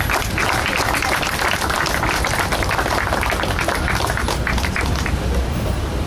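An audience applauds in a hall to welcome Annette Lantos at an event on victims of communism, dense, steady clapping from a large crowd holding at full volume throughout.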